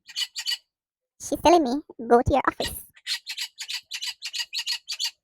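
A pet bird squawks and chatters in loud, rapid bursts, first briefly, then as a long string of sharp calls after someone speaks over it indoors.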